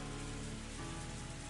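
Steady rain falls and spatters on surfaces at night after a festival, a dense, even hiss with no break and no voices.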